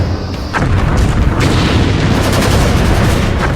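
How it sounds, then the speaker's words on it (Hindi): Commandos fire a mix of weapons in combined shooting practice, heavy booming blasts and rapid overlapping shots merging into a loud, dense roar of gunfire. "कमांडो को कंबाइंड शूटिंग की प्रैक्टिस दी जाती है"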